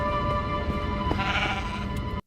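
A sheep bleats in a video game, one drawn-out tonal cry over a steady bed of game music and ambience, near and clear, with the whole scene cutting off abruptly at the end.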